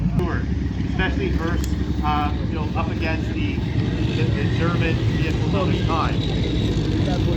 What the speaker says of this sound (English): that sound you're hearing, that's actually an aircraft radio engine at the back of the tank